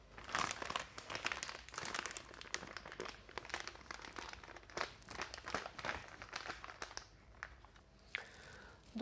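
A plastic piping bag for Italian meringue crinkles and crumples as its edges are folded back and handled, a close, quiet, continuous rustle with no talk.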